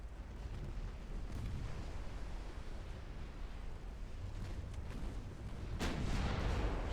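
Naval gunfire from warships in the video game Ultimate Admiral: Dreadnoughts, a dull rumbling sea-battle backdrop with a sharp heavy boom near the end, no talking.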